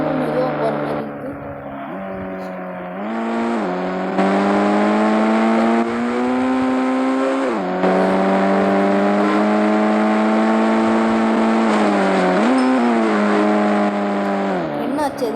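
A car engine in the Indian Bike Driving 3D video game, in moon gravity mode, drones loudly and steadily, with its pitch dipping and climbing again several times as it shifts and revs.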